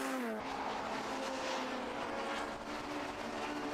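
Racing Hondas lap the 1.2-mile Brands Hatch Indy circuit at a Time Attack and Racing Hondas Championship meeting, engines roaring close and steady with a brief tyre squeal at the start, continuous throughout.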